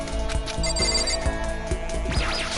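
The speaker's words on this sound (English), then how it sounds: "We're getting a ding dong." A bright ding-dong chime from the Danganronpa video game rings over steady game music, a bell-like tone sounding near and clear, with no talking.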